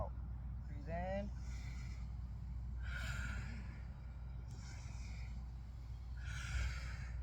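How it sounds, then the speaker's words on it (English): Deep, forceful breaths during an intense yoga session, several long exhalations and inhalations in slow rhythm, close and fairly quiet over a low steady hum, with one brief voiced sound early on. "Breathe it all the way out"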